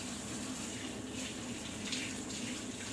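Dishes being washed at a sink under a steady rush of running tap water, a continuous close splashing hiss with faint clinks, no voices.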